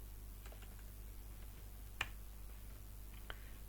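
A few sparse keyboard taps sound over steady background hum while text is entered into a spreadsheet cell, with one sharper click standing out in the middle.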